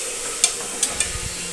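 Tomatoes cooking down in ginger-garlic-onion paste for potato kurma, stirred with a spoon: a few sharp scraping clicks against the pan over a low, steady sizzle, close and fairly quiet, no talking.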